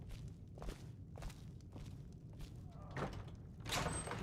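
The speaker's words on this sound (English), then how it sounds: "Close the door." A wooden door swings shut with a heavy thud near the end, after a run of steady footsteps, in the video game Skyrim (Anniversary Edition), all over a low background rumble with no talking.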